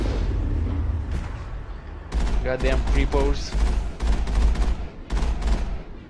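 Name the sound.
cannon firing at creatures in video game Mass Effect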